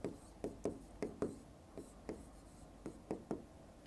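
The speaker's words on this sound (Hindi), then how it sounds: "ये एक परिभाषा मैंने लिख दी" Pen strokes writing a definition by hand during a Class 12 physics lesson on electric potential, a run of about a dozen short scratchy taps and scrapes in uneven rhythm, close and fairly quiet, with no talking.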